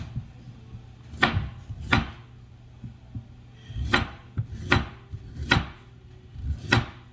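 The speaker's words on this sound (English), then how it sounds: "sweet potatoes are much more difficult to chop up than a regular white potato" A knife chops sweet potatoes on a cutting board, six firm, separate thuds at uneven intervals, close and clear with no talking.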